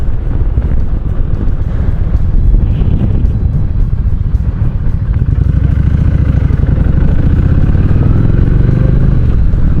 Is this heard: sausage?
no